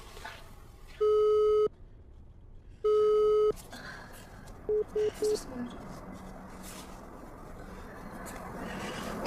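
Tones on a phone call during a family emergency: two long beeps of a ringing tone, then a short burst of three quick beeps as the call drops. Background noise and faint talk sit underneath.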